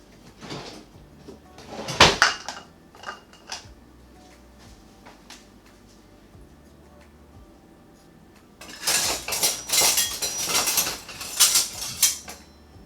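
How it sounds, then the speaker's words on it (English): Sterilized glass jars and metal lids clink, clatter and knock as they are handled for canning fig preserves, with a sharp burst early on, a quieter stretch, then a busy run of rattling glass and metal near the mic. "just pull them out one at a time, fill them up, put the lid on back on them, and then throw them back in the canner"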